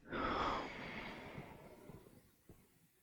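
A single full yoga breath, a long, soft exhale rushing out near the microphone, fading into quiet with faint breathy traces.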